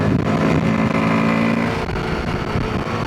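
A Royal Enfield Himalayan 450 motorcycle engine labors up a steep uphill road, loud and steady with a dense rumble, the tone dipping slightly partway through as it pulls on, with no voices.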